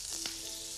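Brined beef tongue sizzles in butter browning to a nutty stage in a hot pan, a steady close frying hiss with one brief louder burst near the start, no voices.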